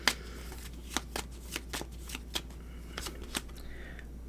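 Tarot cards being shuffled by hand produce a quick series of crisp, papery riffles and snaps, about a dozen short bursts at an uneven rhythm, close and clear.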